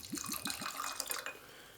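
Japanese whisky glugs out of a bottle into a glass in a quick burst of four bubbling pulses, then trickles and splashes lightly before settling.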